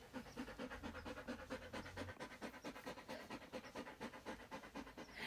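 Dog named Jamie panting heavily and steadily, rapid rhythmic breaths close by, continuous throughout with no talk.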